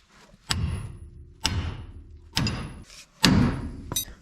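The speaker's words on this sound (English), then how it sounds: "I should be able to bang on this right here, get that to pop loose from the spindle" Hammer blows on a lower ball joint to knock it loose from the spindle on a chop top Chevy, four loud, close metallic thuds spaced about a second apart, each with a brief ring, and a lighter tap at the end.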